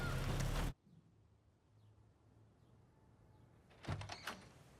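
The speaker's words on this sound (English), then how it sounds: "Shut that fucking door." A door in a scene from The Wire, a single heavy thump as it shuts, followed by quiet room tone and then a short burst of clattering noise near the end.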